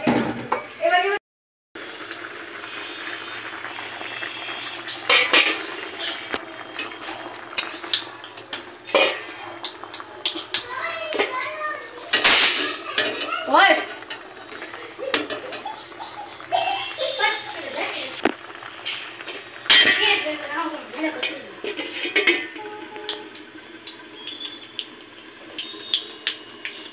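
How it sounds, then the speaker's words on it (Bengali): Two cooking pots are scrubbed clean in a home kitchen, giving a long run of clattering metal, scraping and clinking utensils with splashes, while children's voices chatter and play nearby. "এবার আমি দুইটা বাসনটাকে মেজে নিচ্ছি।"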